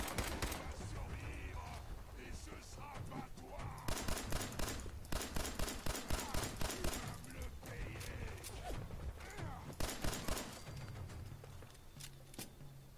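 Gunfire in Fallout 4, rapid bursts of repeated shots in clustered volleys with pauses between them, loud and close amid game effects.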